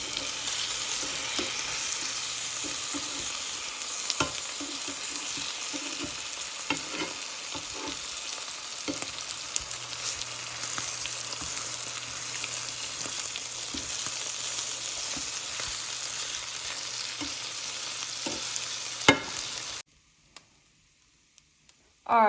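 Chicken and shrimp fry in butter in a pan with a steady, close, hissing sizzle and occasional ticks and stirring clatters; the sound cuts off abruptly near the end.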